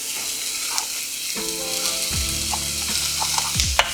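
Onglet steak searing in a hot cast-iron pan, a steady close sizzle and crackle of frying with a few sharp spits and pops, alone without talk.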